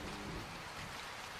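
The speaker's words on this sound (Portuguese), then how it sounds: "Então começou a chover" Steady fine rain hisses and patters densely across the whole moment with no pause, a soft even wash of drops on a surface and no voices.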